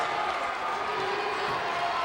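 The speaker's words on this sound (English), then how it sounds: "The crowd is going crazy." A dense, steady crowd roar fills a high school basketball gym during a championship jamboree game, loud and unbroken with voices blended into the noise.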